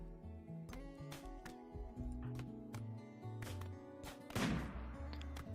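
Colonists in the video game RimWorld fire guns at insect hives: scattered sharp shots pop over a busy, layered game soundscape, with one louder burst standing out near the end.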